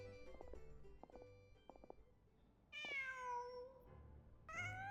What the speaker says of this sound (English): Just a cat.